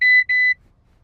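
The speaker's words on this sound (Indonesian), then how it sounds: "Forward collision warning." An MG ZS EV electric crossover's forward collision warning sounds two short, bright electronic beeps in quick succession from inside the cabin, followed by quiet road hum.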